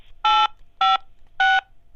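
Three telephone keypad tones, each a clean steady beep lasting about a quarter second with short gaps between them, loud and close against near silence.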